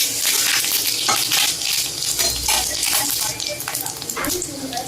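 Dried red chilies sizzle in hot oil as tempering for a sour mango curry, giving a steady, loud frying crackle throughout with broadband hiss and spitting pops.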